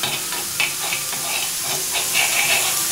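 Sambar masala sizzles steadily in a pan while it is stirred, a loud, constant hiss broken by faint scraping strokes.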